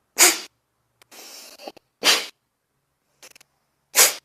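Yoga cleansing breath, a longer inhale followed by short, fast, forceful exhalations. Three sharp, sneeze-like bursts of air alternate with quieter, drawn-out breaths in between, close and clear with no talking.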